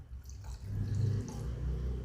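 Water poured into a cooking pot, a short, close splash and trickle in a home kitchen, with no talking.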